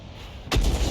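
A self-propelled artillery gun fires in a tank battle video game, a single loud, deep boom that bursts in abruptly after a low engine hum and rolls out heavily.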